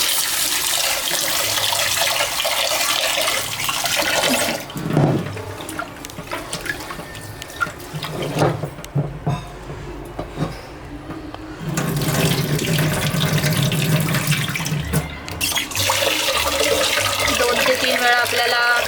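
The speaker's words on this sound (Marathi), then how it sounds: "आपल्याला धुवून घ्यायचा आहे भात" Rice washed in a home kitchen sink under a running tap, a steady loud gush of water with sloshing and splashing breaks as the grains are swirled, pausing midway before the flow resumes.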